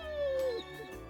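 A dog in the visual novel game To Heart gives a single drawn-out whimpering whine that slides downward in pitch, followed by a faint trailing yip, heard close and clear over quiet game background.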